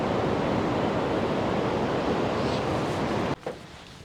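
Lag Valley river water rushing in a steady broadband roar, close and loud throughout, cutting off sharply near the end and leaving a quieter wash with a brief bump.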